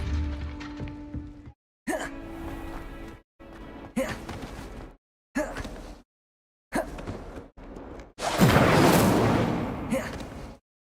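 Incendio fire spells burst and whoosh in Hogwarts Legacy, several loud blasts in short separated bursts, the last a long roaring eruption, with a spoken incantation among them.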